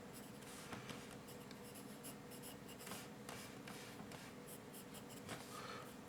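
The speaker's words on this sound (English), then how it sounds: "I'm using a 4B pencil here" A 4B pencil scratches across paper while shading dark areas of drawn hair, a soft continuous rubbing with quick repeated strokes, close and quiet.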